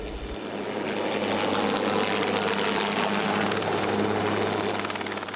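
A helicopter, either an Aérospatiale Lama or an AS350 B3 used for crop spraying, drones loudly and steadily, with a continuous rotor and engine roar and a fast beating throb that holds close throughout.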